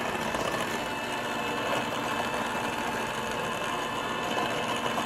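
Electric mixer beating brownie cookie batter, a steady, continuous motor whir with a gritty rattle, holding level throughout with no voices.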